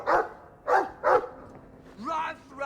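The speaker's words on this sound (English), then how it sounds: "Doggy. I like the doggy." A dog in the Dragon Age 2 video game gives three short, loud barks in quick succession, followed by a longer yelping whine, with brief gaps of quiet between.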